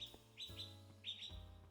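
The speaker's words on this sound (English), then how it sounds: "if you're wondering like what the birds are" Ambient birdsong from a Minecraft nature-sounds mod: a few quick, high chirps in two short clusters over faint low background noise, soft and close.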